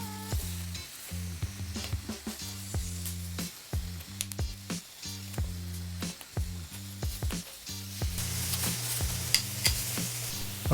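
Jalapeños, tomato and garlic charring in a hot pan for green avocado salsa, a constant close sizzle broken by repeated scraping and stirring knocks, with occasional louder spits and no voices.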